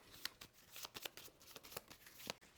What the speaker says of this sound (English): So I'm going to shuffle that into my starting deck